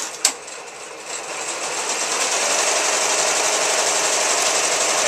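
A multi-head commercial embroidery machine with six heads running together starts up with a brief click, then settles into a steady, continuous mechanical whir and rapid stitching chatter that holds level throughout.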